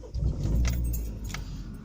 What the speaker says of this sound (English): So that's first turning the key.